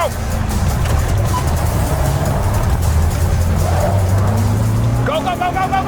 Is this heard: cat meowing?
no